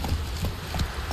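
Horse hooves clip-clop in a steady, close rhythm in The Witcher 3: Wild Hunt, a few even beats carried over low background rumble with no talking.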